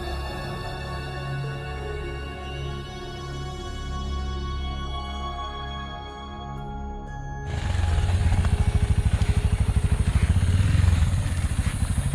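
A motorcycle rides along twisty forest roads in Indonesia, its engine droning steadily close by, then growing louder and rougher as it accelerates with a clattering rasp. Nobody speaks.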